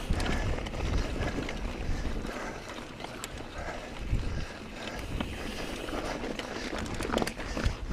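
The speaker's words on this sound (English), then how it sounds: "here we are, bearing the brunt of all that wind" Strong wind buffets the microphone on a mountain bike ride during a solar eclipse, a loud continuous roar with gusting rumbles and scattered rattles, no voices.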